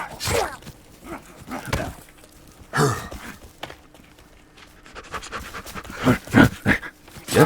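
Deep, breathy growls from enemies in the survival video game The Forest come in a few separate bursts, with quieter stretches between them and a cluster of louder growls near the end.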